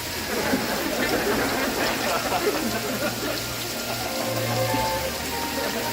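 Steady rain falling in a dense, even hiss, with faint low background sound from a TV show playing underneath.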